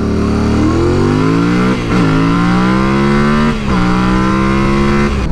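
A motorcycle launches hard from a standstill to 60 mph, its engine climbing in pitch through each gear with two quick dips at the shifts, loud and close throughout.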